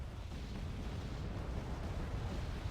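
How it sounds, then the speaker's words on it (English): Enemy mortars bombard a forest in the video game Wargame AirLand Battle, heard as a continuous low rumbling roar of dense overlapping blasts, steady and moderately loud, with no talk. "Enemy mortar are bombarding the forest"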